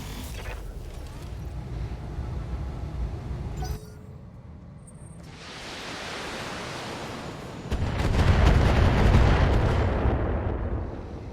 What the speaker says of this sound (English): they're dropping artillery on the Scorpion